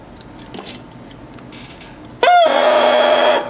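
A brand-new bassoon reed crowing around an E: a short buzzy squawk, then a longer, bright, sustained crow that bends briefly before settling, heard alone without speech.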